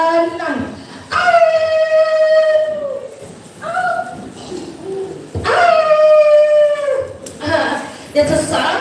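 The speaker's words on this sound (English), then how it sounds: "that's a sound of wolf" A wolf howl at a storytelling performance at a school language festival: two long wailing howls, each rising then gliding down, loud and close over a background of murmuring voices and noise.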